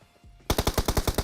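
Automatic gunfire in PUBG Mobile: a rapid burst of about eight evenly spaced shots, loud and punchy, starting abruptly after a short quiet stretch, with no talk.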